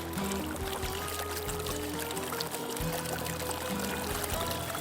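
Pyramid Pro gold pan shaken under water, a continuous sloshing and swirling water rush, steady and close, with no speech over it.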